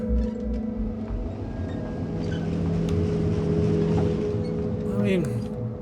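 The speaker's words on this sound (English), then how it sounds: "I do enjoy driving around in this little rover thing for a little bit." A small rover in The Invincible drives along with a continuous humming motor drone and rumbling low tones, steady and fairly loud, with a brief pitch-sliding whine near the end and a voice speaking over it.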